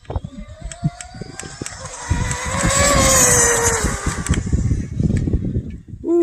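A Team Corally Python 6s RC car with a Speedtekrc 35t spool running outdoors in the heat, its electric motor whine rising in pitch as it accelerates toward top speed, with rustling and background noise underneath.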